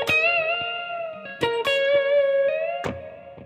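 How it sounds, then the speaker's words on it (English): Electric guitar note bent at the 16th fret of the B string, ringing with a slight waver before being cut short by a right-hand mute; several picked attacks with reverb, played alone and moderately loud. "I'm gonna cut the note short by muting it with my right hand."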